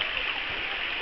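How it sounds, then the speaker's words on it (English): A river near Old Mellifont Abbey flows in a steady, bright rushing hiss like a stream over stones, close and continuous for a brief moment with no voices. "it's a beautiful river"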